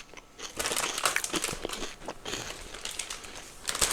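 Close, crisp crunching of a crunchy snack, irregular bursts of crackly bites and crinkling that continue for several seconds with no talking.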